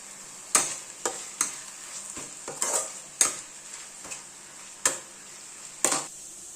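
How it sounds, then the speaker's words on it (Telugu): Onions, garlic and coriander sizzle in a hot pan while being browned, with a steady frying hiss and about ten sharp metallic clinks as a spoon stirs and scrapes against the pan at an uneven pace. "వేసి ఎర్రగా వేయించాలి. Coriander, onion, garlic."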